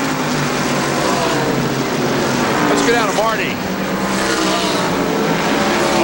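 Racing trucks roar around a track in a 1995 televised truck race, a dense, steady engine drone with one passing whine rising and falling midway, under continuous commentary.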